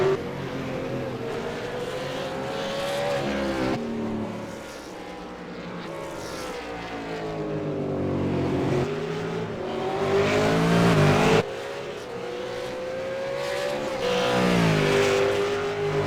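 V8 Supercar race car engines roar in iRacing at Bathurst, several cars revving and shifting through gears with rising and falling pitch, loud and continuous, passing close with sharp changes as they go by.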